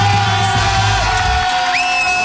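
A team shouting and cheering together in a radio studio, a loud burst of whoops and yells at close range, with a rising electronic tone near the end.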